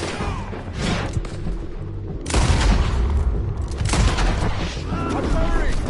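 Gunfire rings out in Red Dead Redemption 2, with loud booming shots and dense volleys in bursts across several seconds, mixed with voices.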